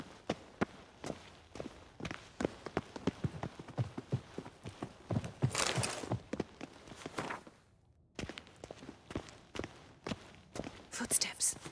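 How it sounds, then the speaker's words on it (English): Footsteps of a character walking in The Witcher 3, a steady run of clip-clopping steps on a hard floor, close and fairly loud, pausing briefly and then resuming, with faint game ambience and hushed voices around them. "Footsteps"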